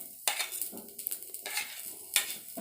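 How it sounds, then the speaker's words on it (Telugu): Chunks of raw pumpkin cut into large pieces tumble into a pan, with several clattering knocks and scrapes of stirring against the metal over a faint sizzle, close and fairly loud, no voices. "పంకిన్ పీసెస్ యాడ్ చేసుకుందాం."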